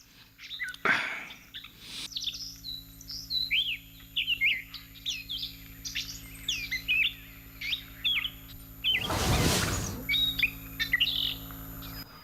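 Birds chirping in the morning, a lively mix of quick tweets and rising whistles close by, broken by two bursts of a louder rushing noise near the start and middle.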